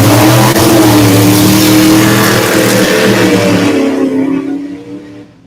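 A race car engine revs hard and holds wide open on a very short track, a loud, steady roar that stays close before fading away as it recedes in the final second.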